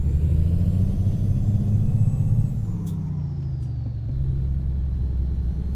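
Diesel engine of a Peterbilt 377 truck in American Truck Simulator rumbles steadily while driving, loud and close, with a brief air-brake hiss midway before the low drone continues.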